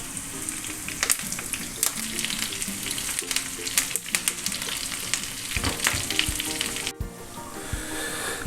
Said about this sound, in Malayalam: സോ മുളകൊന്ന് ഫ്രൈ ആയി വരുമ്പോഴത്തേക്ക് കുറച്ച് കറിവേപ്പില ചേർക്കുന്നുണ്ട് അതിലേക്ക്.